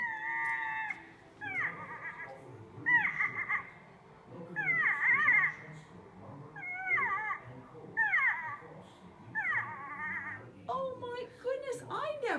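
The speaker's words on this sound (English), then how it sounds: "Never knew that's what a porcupine sounded like." Recorded porcupine calls played back outdoors: a series of rising, whining squeals and cries repeated about every second or so, fairly faint, with a voice speaking softly underneath.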